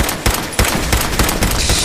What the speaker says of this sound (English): we're literally just have to whittle everything down with the pipe pistol